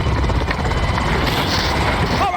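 Steady thudding rotor noise from a video game helicopter carrying troops toward a landing zone, loud and close throughout, with faint voices mixed in underneath.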